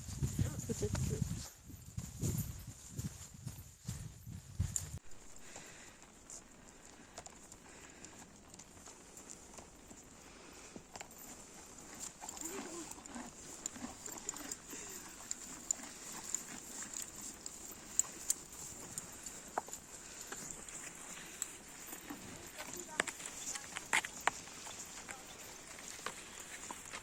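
Horses walking on a trail during an equestrian trek in the Somme, hooves clip-clopping steadily at a distance under outdoor ambience, with a loud burst at the start and people talking.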